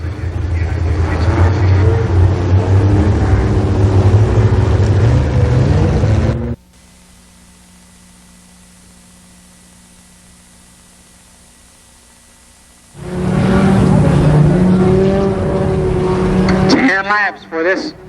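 Race cars roar loudly around Columbus Motor Speedway at the 1990 Fall Speedfest. The dense engine noise cuts to near silence for several seconds, then returns just as loud and breaks up near the end.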